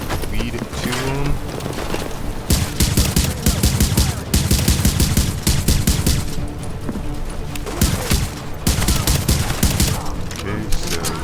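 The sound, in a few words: gunfire in video game The Division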